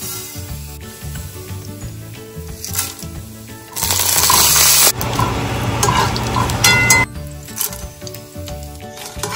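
Whole cumin, dried red chilli and whole garam masala dropped into hot ghee for a tempering, a loud steady sizzle and crackle that swells sharply midway, with scraping and stirring in the pan.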